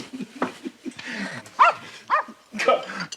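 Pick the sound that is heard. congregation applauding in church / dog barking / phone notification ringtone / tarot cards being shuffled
dog barking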